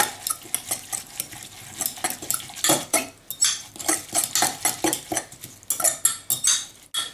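A fork beating oil and lime juice in a measuring jug, giving a fast, steady run of close metallic clinks and scrapes against the sides, with no voices.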